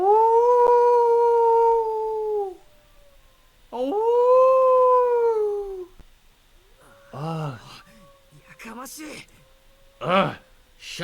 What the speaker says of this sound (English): The dog is still howling somewhere outside the window.